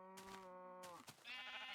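A Minecraft sheep bleats twice, a drawn-out nasal baa followed by a shorter, higher one, clear and close with no talking.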